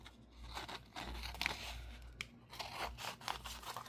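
Scissors cutting through a paper napkin, close and quiet, with a series of soft crisp snips and crinkles spread over a few seconds.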